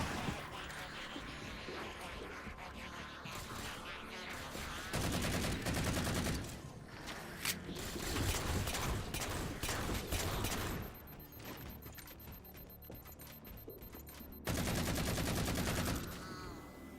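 Auto rifle gunfire in the Halo 4 multiplayer video game: sustained automatic bursts run through most of the stretch, with dense rattling volleys that surge louder around the middle and again near the end.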